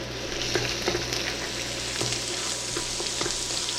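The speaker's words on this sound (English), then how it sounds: "Now oil is hot. I'm adding 2 tablespoons of garlic, 2 tablespoons of ginger chopped" Chopped garlic and ginger sizzle steadily in hot oil, a dense close crackle with occasional sharper pops and stirring scrapes, no voices.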